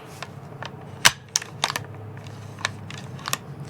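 Metal bolt of a Japanese Arisaka turn-bolt rifle being worked, an early Type 30 to Type 38 military bolt action: a scattering of sharp close clicks and clacks spread across a few seconds, the loudest snap near the middle, with no talk.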